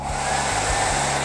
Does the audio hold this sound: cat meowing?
no